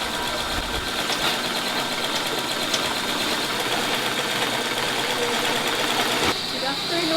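A sewing machine runs steadily through a sewing class for first-time learners in the Philippines. The whirring hum continues throughout, a voice talks over it, and there is a brief clack near the end.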